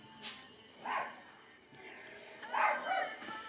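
A pet dog gives a few short, moderately close barks and yips in a home, spaced irregularly over a few seconds against a quiet room background.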